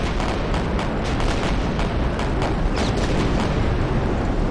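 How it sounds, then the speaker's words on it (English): Dive bombers attack ships in the naval video game Victory At Sea with a dense, continuous roar of explosions and booming anti-aircraft gunfire that stays loud and unbroken throughout. "I just want to attack it with my dive bombers"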